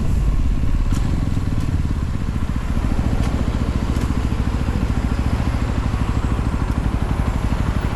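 A Yezdi Roadster motorcycle engine runs nearby with a fast, even, thumping beat and a low rumble throughout, loud and steady with no voices.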